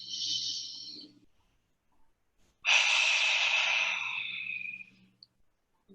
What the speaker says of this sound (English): We'll take a cleansing breath in through the nose, out the mouth.